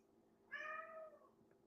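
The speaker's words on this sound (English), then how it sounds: "my cat's being very rambunctious today" A house cat gives a single clear, drawn-out meow at close range over a faint steady hum, with no one talking.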